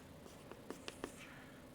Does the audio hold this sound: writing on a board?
yes